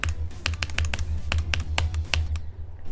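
Rapid mouse or key clicks from a player in Geometry Dash, a string of sharp close taps in an uneven rhythm over a low steady hum, stopping shortly before the end.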